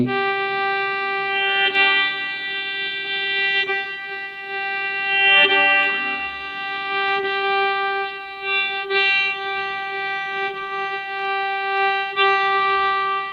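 Low open G string of a Kantrum fiddle with a guitar-style tuning peg, bowed in long sustained notes that swell and fade repeatedly, clear and close with no talking.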